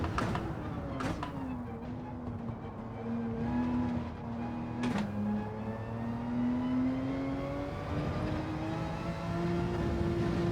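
GT3 race car engine in Gran Turismo 7, a steady whining drone with pitch dropping under braking then rising smoothly through acceleration, a couple of sharp clicks, moderately loud and continuous.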